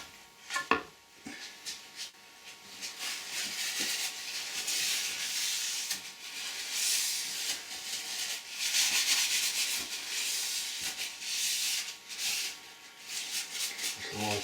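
Steady abrasive rubbing as a grip strip is worked back and forth over metal lathe ways, a continuous close hissing scrub with a few knocks near the start, no talking.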